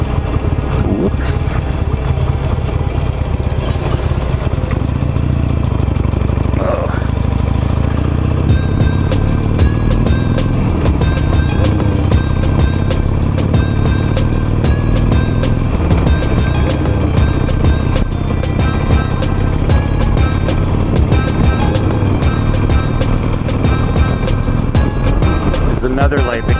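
A 17-year-old Harley Davidson Nightster motorcycle rumbles steadily while riding, its engine drone rising and falling with throttle under constant wind roar, and a rider's voice talking over it throughout.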